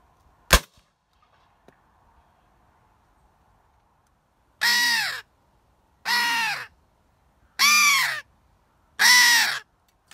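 Rooks and crows cawing beneath an oak tree in open countryside: four loud, harsh calls in a steady sequence, each about half a second long, following a single sharp crack early on, with no voices present.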